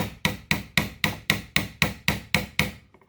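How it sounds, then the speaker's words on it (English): Ten steady, evenly spaced hammer blows drive pins into a KelTec P32 pistol grip frame, each a sharp, loud knock that rings briefly before the next strike, then the last one fades out. "So I'll finish driving these pins in."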